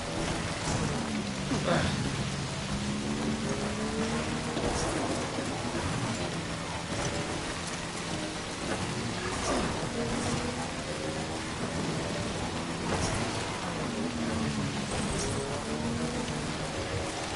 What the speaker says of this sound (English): I feel like the storm is just getting worse